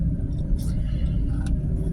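Car traffic rumbling steadily close by while a person sits stuck in it, a low continuous drone with a couple of faint hisses passing over it.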